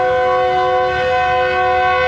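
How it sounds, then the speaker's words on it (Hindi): A Pakistani passenger train, the 5UP Greenline at Rohri, sounds a long, loud, steady multi-tone horn blast that holds unbroken for the whole stretch, close by and alone. "रवाना होने लगी है ट्रेन।"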